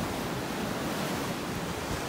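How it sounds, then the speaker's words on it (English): Ocean waves breaking on a beach in North Naples, Florida, heard as a steady, full roar of surf with no individual breaks standing out and no talking. "if these waves subside"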